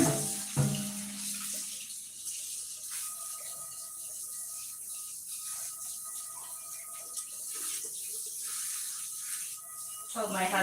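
Tap water runs steadily into a sink while a cast iron pan is washed, with a continuous hiss broken by scrubbing and clatter near the start and end.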